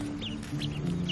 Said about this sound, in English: we have a flock of backyard chickens